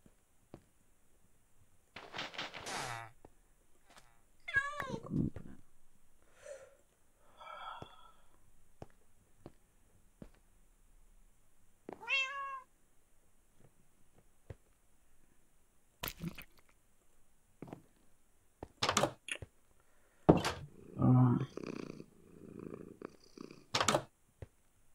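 A cat in the Minecraft video game gives a few short rising meows spread out with pauses, along with soft purring and other quiet game noises, and no one talks.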